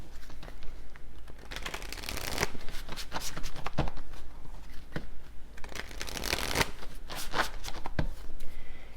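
Playing cards riffled and shuffled by hand for a tarot-style reading, repeated crisp flurries of snapping card edges close up, with brief pauses between bursts and no talking.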